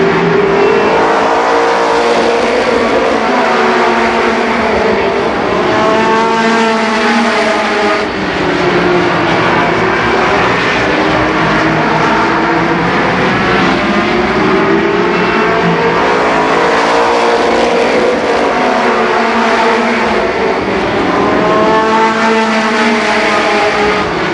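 Race cars roaring around Columbus Motor Speedway during a race, a loud continuous engine drone that rises and falls in pitch as the cars circle the track, with no talking.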